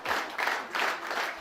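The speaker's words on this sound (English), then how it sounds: "Marit Stiles launched her campaign in front of a noisy crowd of supporters" Noisy crowd of campaign supporters applauding and cheering at a political launch rally, dense steady clapping swelling in waves, close and loud.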